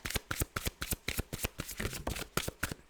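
Tarot cards riffle in a quick, crisp series of rapid shuffling bursts up close, about a dozen sharp flicks in steady rhythm.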